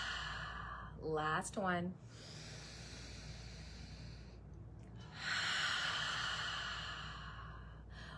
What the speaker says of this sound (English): just exhale through the mouth